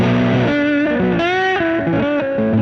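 Lap steel guitar played through a neck humbucker on a 26-inch scale instrument, heavily distorted, sustained sliding chords and swelling notes ringing loud and close without talk.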